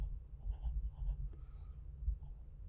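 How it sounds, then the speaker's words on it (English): Pen or pencil strokes scratch softly across paper as someone writes out a math ratio by hand, short scribbling bursts close to the mic over a low room hum, with no talking. "I'm going to write down here"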